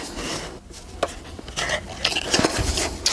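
Clattering and knocking of a lasagna dish sliding into a hot home oven, with metallic rattles and bumps of the rack and door in a busy kitchen, close and fairly loud.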